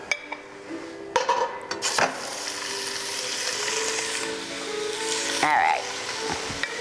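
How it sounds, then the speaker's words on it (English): Turkey sizzles and fries in olive oil in a hot pan, a steady bright crackle with a brief clatter of pan or utensil, while a person speaks a few words over it. "Let's add some olive oil. And then let's get our turkey in."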